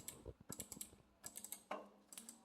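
Quick mouse clicks on a computer mouse's left button, crisp clusters of small plastic taps in close succession, near and fairly quiet with no talking.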